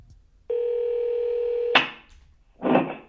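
A Google smart speaker places a phone call, giving a steady, loud dial tone for over a second, then a short burst of dialing or connection noise and a second brief burst, with no talk.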